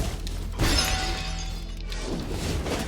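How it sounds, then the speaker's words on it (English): A bomb goes off in the video game Moonscars with a sudden shattering, crashing burst that lingers as a dense, breaking-glass-like noise for a couple of seconds before thinning out, with no voices. "Oh, he got blown up by the bomb"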